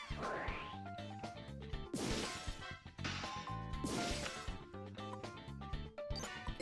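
A card effect's smash in the Yu-Gi-Oh! GX Tag Force 2 video game sounds as two loud crashing bursts about two seconds apart, each over busy game music with clinking tones.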